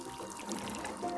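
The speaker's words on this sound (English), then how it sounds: "to make new tea, you gotta empty it out first" A teapot being emptied in the video game Wanderstop, a short steady pour of liquid splashing, close and clear with no voices.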